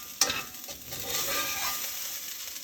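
Vermicelli and sprouted beans are stirred in a pan, a soft frying sizzle under scraping, with a sharp utensil tap at the start, fairly quiet and close, without speech.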